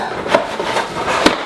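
Cardboard scrapes and soft knocks while a UDM Pro product box is opened and its inner boxes are handled, close up, with two brief louder taps standing out.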